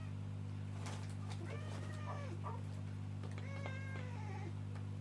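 A house cat meows repeatedly in clear, rising and falling calls, several distinct meows close by over a loud constant electrical hum.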